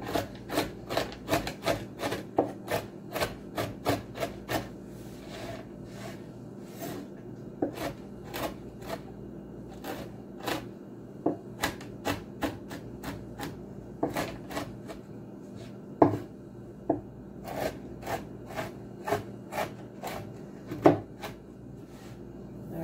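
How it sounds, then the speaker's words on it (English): A knife chops pecans on a wooden board in a home kitchen, making a close, steady run of sharp taps and scraping rubs that repeat in an irregular rhythm throughout, with no voices. "there's our chopped pecans"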